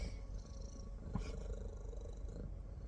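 A cat purring indoors, a soft low rhythmic rumble held quietly close by, faint and steady with a brief rustle partway through.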